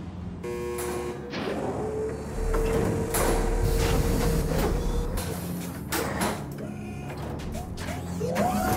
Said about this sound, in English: That's going to open every door on the cell block